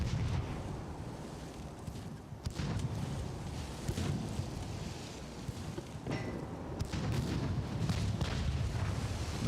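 Warship gunfire in Ultimate Admiral: Dreadnoughts, a continuous rumbling naval battle with a few heavier booms breaking through the dense low roar.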